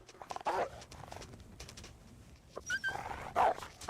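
A dog whimpers and yips in a few short bursts, close by, while someone moves around near it.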